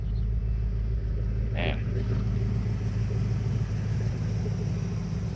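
A 1988 Ford Mustang GT convertible with a 5-speed runs at a steady, loud, deep idle rumble close by, with a brief spoken word partway through.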